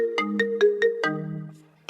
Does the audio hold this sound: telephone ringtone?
yes